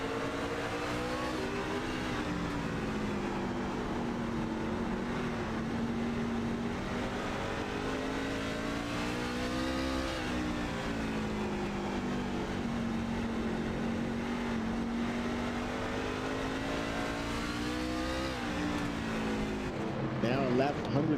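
Race trucks in a racing video game lap a track in the Carver City Steakhouse 185, a continuous whining engine drone rising and falling through gear changes, with commentary voices over it.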